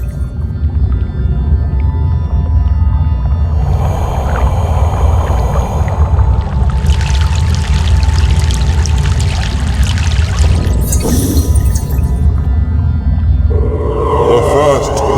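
A boat crossing a river in the video game Broken Sword: The Sleeping Dragon: a steady loud low rumble of engine and water runs throughout, with sloshing and splashing swells layered on top in the middle and near the end.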